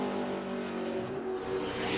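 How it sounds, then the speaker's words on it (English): Sterling Marlin's Coors Light Dodge stock car laps during 2005 qualifying, a steady loud engine drone with a rising, brighter whine near the end as it passes, alone without talk. "on track now, Sterling Marlin in the Coors Light Dodge"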